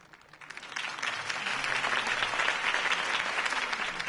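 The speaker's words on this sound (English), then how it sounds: "If only Mr. Wayne, my campaign's largest backer, could have heard that applause" Applause in a video game cutscene swells from a few scattered claps into sustained clapping from a large crowd, steady and fairly loud throughout.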